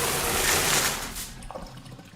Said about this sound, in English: The quickest shower in the world.